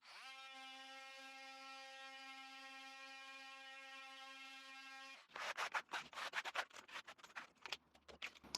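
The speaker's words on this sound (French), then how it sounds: "c'est du ponçage de multi-outils" A Parkside PAMFW 12 D4 cordless multi-tool runs with a steady high-pitched oscillating whine, then starts sanding with loud, uneven rasping strokes close by.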